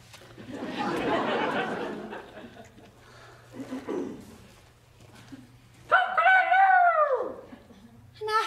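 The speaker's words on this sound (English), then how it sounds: "An afternoon crow?" Rooster crowing in the afternoon, a single loud, drawn-out crow rising then falling, following earlier quiet conversation and movement; a brief sound cuts in at the end.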